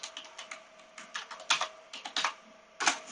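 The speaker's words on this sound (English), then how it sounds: "I can type." Keys clatter on a computer keyboard in irregular bursts of close, crisp taps, some strokes louder than others, with a faint steady electronic tone underneath and no talking.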